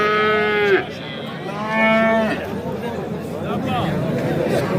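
Cattle at a livestock market lowing in several drawn-out moos, one after another, close by, while someone talks over the crowd chatter and babble of the market.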